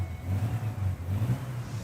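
Air-cooled engine, a low rumbling roar that pulses unevenly at a steady idle-like rhythm, close and continuous with no voices.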